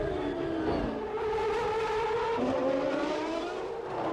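Formula 1 race cars at the 1994 Monaco Grand Prix scream through the tight street circuit, engines whining loud and steady with a pitch shift as a car passes, no voices.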